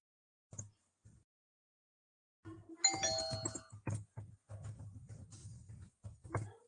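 A doorbell rings at a home, two short faint tones followed by a louder, longer chime with ringing harmonics and several repeated hits, fairly close and clear with no talking.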